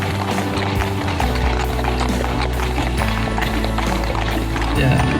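Hooves of Indonesian police horses on patrol clip-clop in a steady, repeating rhythm, loud and close, mixed with crowd murmur and background voices.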